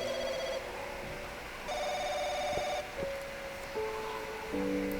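A telephone rings inside the video game Firework, an electronic ringtone pulsing in repeated bursts over a hissy, droning background. Occasional soft clicks and shifting tones sound beneath it, and no one speaks.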